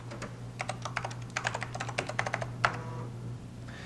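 Clicky keystrokes on a computer keyboard entering an install command at an old PC, irregular bursts of taps over a steady low hum, fairly quiet and close, no talking.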